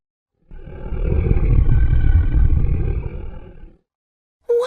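The beast from the Beauty and the Beast story gives a deep, loud animal roar like a big cat that swells and lasts about three seconds, then a short new sound starts after a pause.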